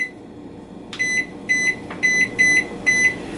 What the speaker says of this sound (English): I'll set a kitchen timer.